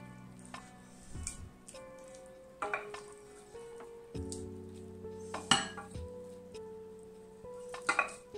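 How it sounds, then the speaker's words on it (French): A spoon scrapes and taps against a baking dish as a pear and reblochon tartiflette mixture is spread in, with clinks and soft sizzling textures in irregular bursts and no talking. "Là, je vais mettre ma préparation dans un plat."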